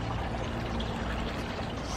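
Water pours steadily onto newly planted aeonium succulents in a garden, a continuous close splashing and trickling with no talk.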